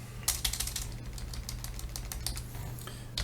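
Rapid keystrokes on a computer keyboard, close and steady, a run of crisp clicks of varying spacing under a low background hum, with no talking.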